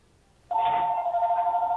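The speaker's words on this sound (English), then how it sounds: "Somebody's phone is on." A mobile phone suddenly starts ringing in a planning board meeting room, a steady electronic tone sounding clearly and continuously after a quiet moment.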